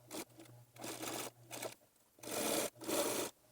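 A sewing machine stitching a fabric face mask, running close in short whirring bursts with brief pauses between them and a faint low motor hum underneath.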